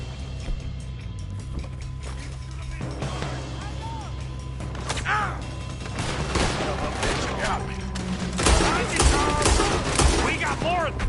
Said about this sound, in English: Looks like we're shooting our way out of here,